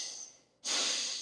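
A single deep, close breath taken in a hip adductor stretch, a quiet airy exhale fading down before a loud, broad inhale that rushes in and holds steady to the end.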